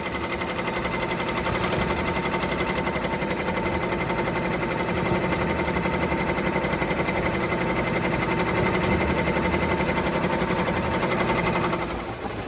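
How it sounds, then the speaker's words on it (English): An embroidery machine stitches a design with a steady, fast mechanical whir and needle rattle, loud and continuous with no talk, easing off right at the end. "I'm just waiting for this to stitch around"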